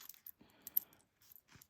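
Zipper coils pulled apart by hand during sewing, a few short, faint clicking and rasping ticks with a soft scraping stretch in the middle, close up with no talk.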